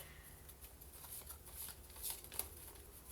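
Tarot cards from a shadow deck are shuffled and riffled close by, soft papery flutters and slides with a few sharper snaps, faint and with no one talking.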